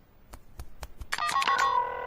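A cartoon telephone bell rings alone, a few quick taps followed by a bright sustained electronic ring, close and clear.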